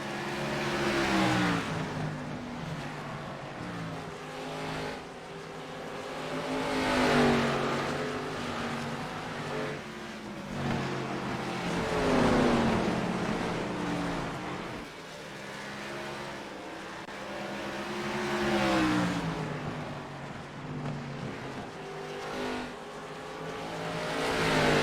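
NASCAR race cars in the iRacing simulation lap Five Flags Speedway at Pensacola, several engines droning and revving together in rising and falling waves, loud and continuous, with the pitch sweeping as cars pass.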